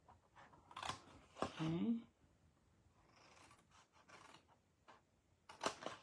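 Scissors snip through paper or card along scored lines, giving a few sharp, close cuts and crisp rustles spread irregularly, with a brief spoken word in between.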